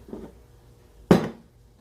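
A knife slices pickles on a cutting board for a Big Mac salad, giving a soft tap and then one sharp, close chop against the board.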